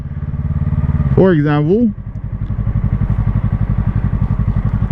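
A motorcycle pulls away smoothly and rides slowly, its engine putting out a loud, close, rhythmic low thrum, with someone briefly talking over it.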